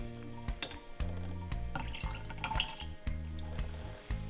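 Sulfuric acid added to a liquid during a school science lab demonstration, heard as a steady run of soft, evenly spaced drips and small splashes, quiet and close, with no talking.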